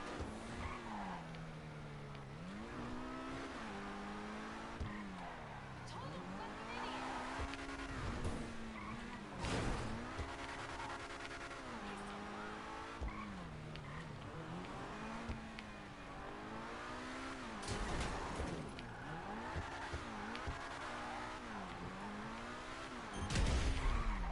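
Car engine in GTA 5 revving up and down through repeated gear changes, tires skidding and squealing under hard driving, loud and continuous with a sharp crash-like burst near the end.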